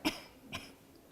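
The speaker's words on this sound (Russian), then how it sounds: "Can you cough?" A patient gives two short, close coughs in quick succession, the first stronger than the second, during a clinical examination.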